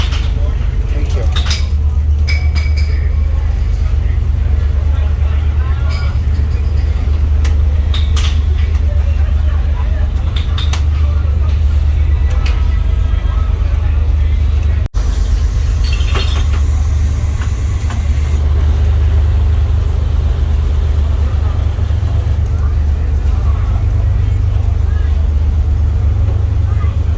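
Inside a van parked on a car ferry waiting to drive off, a loud, steady low engine and hull rumble fills the space continuously, with scattered faint clanks and knocks above it and no talking.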